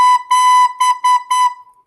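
A recorder plays the note B in a simple rhythm, close and clear: two longer notes, then two short ones, then a final note, with a brief pause before each.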